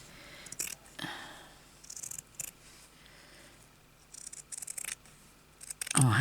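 Scissors snip through patchwork fabric in a few close, brief bursts, separated by quiet pauses, with a louder handling noise at the very end.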